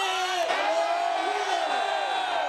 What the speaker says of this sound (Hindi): अरे कौन है जो इतनी देर से चिल्ला रहा है?